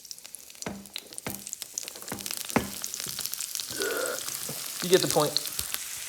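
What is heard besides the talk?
onions sautéing in a hot pan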